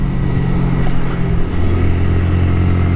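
Honda Grom motorcycle engine droning steadily while riding, a loud continuous low hum with faint wind noise and no clear revving changes.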